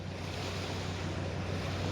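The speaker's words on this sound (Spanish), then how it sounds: "Caída de agua inmensa. Viene de arriba de las montañas." A huge waterfall dropping from high mountains over rocky cliffs roars steadily, a dense, unbroken broadband rush with no pauses or voices.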